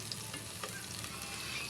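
Smoked fish (tinapa) frying in a pan, a steady dense sizzle and crackle of hot oil running continuously and fairly close, with no talking.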